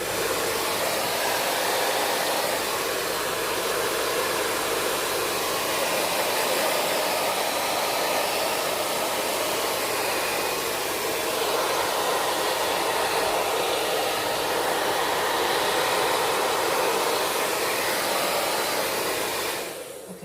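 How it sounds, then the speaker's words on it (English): A heat gun drying paint on a Barbie doll journal cover, blowing as a loud, steady roar of rushing air that holds constant for about twenty seconds before cutting off at the end. "then I take my heat gun and bring the color to dry"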